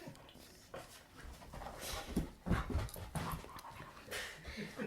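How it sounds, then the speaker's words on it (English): Sam, a dog, panting heavily and letting out soft whimpers close to the microphone, with irregular bursts of breathing and shuffling over a quiet indoor background. "This is Sam the dog."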